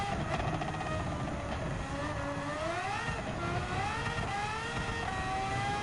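A Red Bull X2019 race car in Gran Turismo 7 revs hard on Grand Valley Highway, its high-pitched engine climbing steadily through the gears, loud and continuous with no voices.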